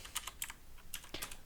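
Quick, irregular clicks of fingers typing on a computer keyboard, close and fairly faint, with short pauses between bursts.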